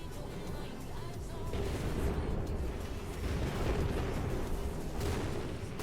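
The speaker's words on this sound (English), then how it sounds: "What is that thumping noise? What is that rumble? Oh, meteor showers." A meteor shower in the game Oxygen Not Included, heard as a steady low rumble with soft repeated thumps and impacts rolling on without pause at moderate volume.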